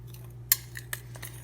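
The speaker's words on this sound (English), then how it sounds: "So I am just going to mix this all together" A utensil clinks and scrapes against a bowl while flour and clumpy brown sugar are mixed by hand, a few soft taps over a low steady hum.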